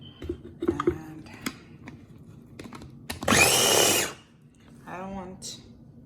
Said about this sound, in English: this is my handy dandy small little tiny food processor. So I have tomatoes and ginger in here.